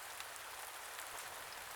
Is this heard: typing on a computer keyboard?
no